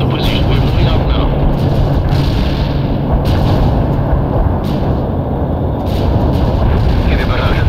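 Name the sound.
artillery barrage in World in Conflict Soviet Assault video game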